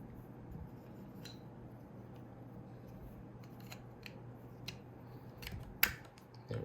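A plastic battery cover on a Prime 1 Studio Robotech VF-1S Skull Leader Battleloid figure is handled and snapped back into place: soft, close rustling with a few small ticks, then one sharp, loud click near the end.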